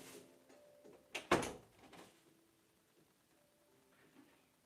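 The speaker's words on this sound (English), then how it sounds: "Close the door, Papa." A door swings shut with a single fairly close thud and a brief rattle, over a quiet indoor background with faint tonal hum.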